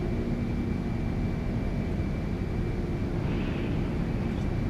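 Jet engines of a Delta L1011 TriStar spool up for takeoff in a flight simulator game, a steady, dense roar with a faint high whine, continuous and close throughout.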